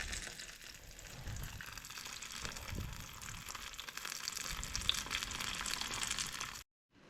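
A hash brown fries in hot oil with a steady, close, continuous sizzle and crackle that holds even throughout and then cuts off abruptly near the end.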